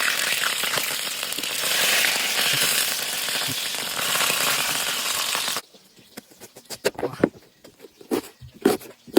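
Tilapia sizzles loudly in hot oil in a pan for about five and a half seconds, a dense steady hiss. The frying then drops away, leaving quieter scattered pops, clatter and faint voices.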